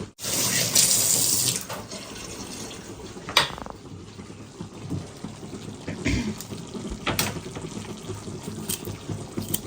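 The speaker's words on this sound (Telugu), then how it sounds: "ఇప్పుడు చూడు చేయి కడుక్కుందామా" Tap water runs steadily into a sink as hands are washed in a home kitchen, a loud gush at first that settles into a softer continuous flow with a few splashes and clinks.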